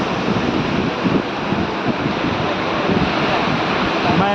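Sea surf at Puducherry beach makes a steady, loud roar with no clear breaks, mixed with gusty wind buffeting the microphone.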